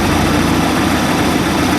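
A 3.7L MerCruiser stern drive boat engine with a rebuilt carburetor runs steadily on the water, a loud, continuous low drone close by with no pauses.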